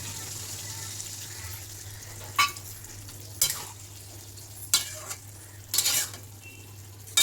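Cornflour slurry is stirred into chilli soya in a frying pan, with a low steady hum beneath and four or five short scraping clinks of a utensil against the pan at irregular intervals.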